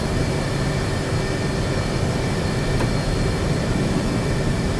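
A steady, loud aircraft engine roar holds constant with no variation, from a jet in the DCS flight simulator on a runway near Anapa before takeoff.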